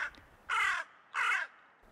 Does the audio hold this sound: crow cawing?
yes